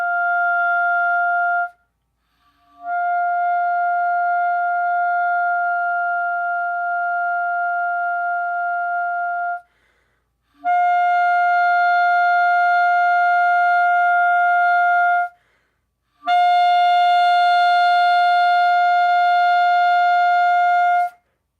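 Four sustained high G notes follow one another with short silences between, each a clean steady tone with bright harmonics, the later ones growing louder and richer as the written dynamics change.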